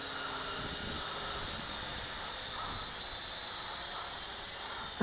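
A HuaJun U-Fly W606-3 quadcopter drone fitted with a RunCam hovers nearby, its propellers giving a continuous high whine and hiss that holds steady throughout.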